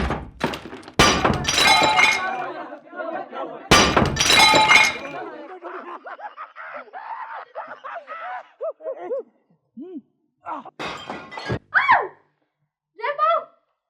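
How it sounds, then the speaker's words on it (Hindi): Window glass in an upstairs room breaks with two sharp, loud crashes, each trailing into tinkling shards, followed by scattered clinks and people speaking. "किसी ने ऊपर कमरे का शीशा तोड़ दिया जी।"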